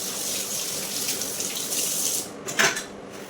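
Tap water running into a kitchen sink during cleaning, a steady close splashing flow with a brief louder surge near the end, no talking.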